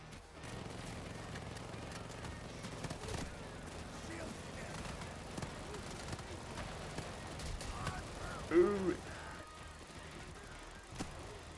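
Gunfire in the heist shooter Payday 3 crackles in scattered bursts through a steady, busy game soundscape, with one sharper, louder report near the end.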